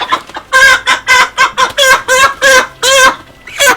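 Broiler chickens in a poultry house cluck and squawk loudly and close by, in a rapid, uneven series of calls with no talk.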